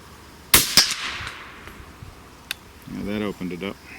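Two sharp rifle shots of Barnes JHP ammunition crack at an outdoor range, close and loud, the second following quickly, then a faint click and someone speaking.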